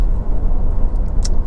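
Low, steady road rumble from a Honda CR-V 2.0 i-VTEC Black Edition 4WD rolling over a rough, broken surface, a close continuous tyre and cabin drone with no clonks or rattles.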